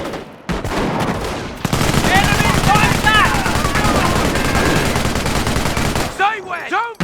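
Dense gunfire from a Company of Heroes infantry battle rattles on continuously, with soldiers shouting over the shooting and a brief lull before a final burst.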